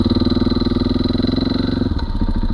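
A motorcycle fitted with a Rekluse automatic clutch idles with a loud, close, lumpy pulse, then pulls away slowly in first gear, its engine note shifting as it moves off.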